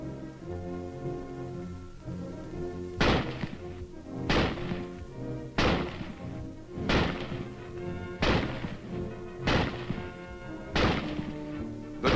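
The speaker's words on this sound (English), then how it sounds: "The rifle is first demonstrated being fired from a prone position." Springfield rifle fired from a prone position, eight sharp reports spaced about a second apart over a background of music, loud and close.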